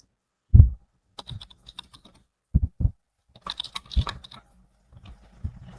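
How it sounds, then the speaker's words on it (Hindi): Keys tapped on a computer keyboard while entering an email address into an online application form, in sparse irregular bursts of close clicks with pauses between, with no speech. "अब हम यहाँ पर कोई ईमेल एंटर करेंगे।"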